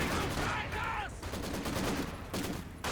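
Artillery barrage in Company of Heroes 2, a dense, rumbling spray of explosive shell impacts and rattling gunfire under a caster's voice, loud and continuous for three seconds.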